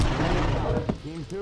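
Weapon fire in the Far Cry video game, a dense burst of loud, close shots filling the first second before fading under someone speaking French.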